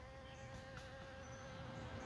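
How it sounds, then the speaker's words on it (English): Bees buzz steadily among watermelon blooms in a homestead garden, a continuous faint outdoor drone with a low rumble beneath and no voices. "look at all these blooms on this watermelon, and the bees out doing this thing"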